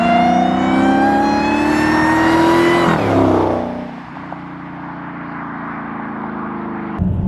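A Dodge Challenger SRT Hellcat Redeye roars loudly as it accelerates, its pitch climbing steadily for about three seconds. It then backs off into a lower, steady drone that continues to the end.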